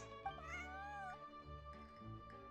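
A cat in the game Genshin Impact gives a long, drawn-out meow that rises and falls in pitch, clear and close, followed by softer, lower mewing sounds.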